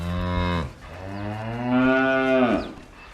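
Cattle low inside a barn, one short moo followed after a pause by a longer, drawn-out bellow, both loud and close with no talking over them.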